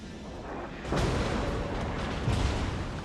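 Battleship naval guns firing at an enemy North Carolina in World of Warships, two heavy booming salvos about a second and a half apart, loud with a rumbling tail.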